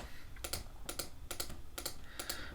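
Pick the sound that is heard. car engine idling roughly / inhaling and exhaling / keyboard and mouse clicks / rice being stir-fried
keyboard and mouse clicks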